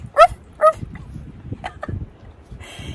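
A seven-year-old doodle dog named Abby gives two sharp, close yips followed by soft whimpers and snuffling, then a faint higher whine at the end.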